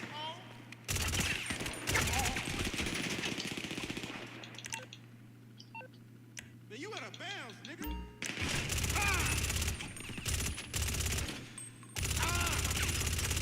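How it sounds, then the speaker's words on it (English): Gunshots in GTA 5 Online, loud bursts of rapid automatic fire in long runs, separated by quieter stretches of game sounds, with someone talking over parts of it. "I'll shoot him in his foot."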